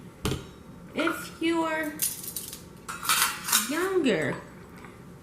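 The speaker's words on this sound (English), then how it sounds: "I'm cutting with this serrated knife" A serrated knife cuts taco salad ingredients in a home kitchen, with metallic clinks and scraping of utensils against a board or dish, close and fairly loud, as a person speaks briefly.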